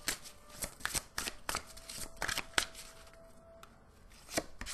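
Fairy oracle cards from a Gaia dreams tarot deck are shuffled and handled up close: a quiet run of rustling, flicking card sounds with several sharp snaps as one card jumps out, no talking.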